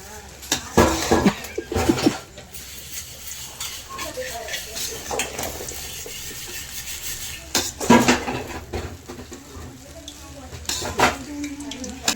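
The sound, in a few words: stirring sauce in a cooking pot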